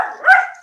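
A single close bark from a dog indoors, sharp and fairly loud, rising to a peak and then fading quickly, with no one talking over it.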